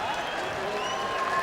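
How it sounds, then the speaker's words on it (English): Racecourse crowd at the 2003 Epsom Derby cheering and applauding after a win, a dense sustained roar of clapping and voices with a race commentator talking over it. "some real cheers from the crowd, an enthusiastic crowd"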